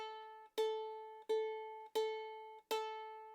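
Ukulele A string plucked four times at an even pace, each clear single note ringing and decaying before the next, close and quiet with no talk.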